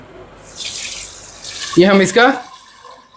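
Soaking water pours off soaked rice as it is drained, a rushing splash that swells and then tapers away while a person speaks briefly over it.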